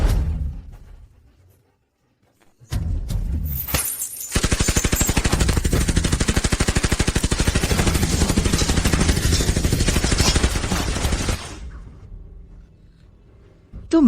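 Sustained machine-gun fire in a battle erupts on a shouted command and roars loud and continuous for about seven seconds, then cuts off, with a brief burst of talk and rumble before it starts.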